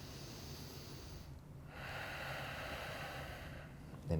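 A deep, full breath drawn during a yoga flow class, heard as a soft, steady rush of air that swells through the middle of the moment and ends in a brief louder puff, with no talking.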